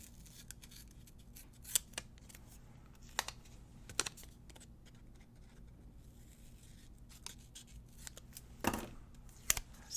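Scissors snip paper for a planner spread, a string of sharp, quiet cuts spaced irregularly across a hushed room, with a louder crunchy burst of cutting near the end.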